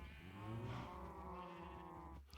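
Many Minecraft cows low in the game, overlapping drawn-out moos that are loud and close, forming a continuous bellowing chorus with no pauses.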